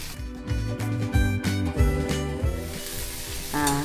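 Mustard seeds, urad dal, fennel and cinnamon sizzle in hot coconut oil, a loud, crackling fry with sharp pops and spits over a steady hiss, close up, with a faint tonal ringing in the background.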